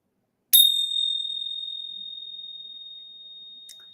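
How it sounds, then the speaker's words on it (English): A single small tuned ting ting bell rings once, close and clear, leaving a pure high tone that slowly fades over several seconds, with a faint second tap near the end. "If anybody knows how to tune ting ting bells, please tell me"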